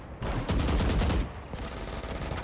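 Rapid gunfire in an esports video game match, a dense burst of shots that fades into a lingering ring.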